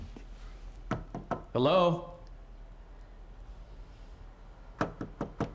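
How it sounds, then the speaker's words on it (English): Knocking on the men's room door in Alan Wake: a few sharp knocks, then a pause, then a second quicker run of knocks, with a voice calling out between them. "knock in the men's room?"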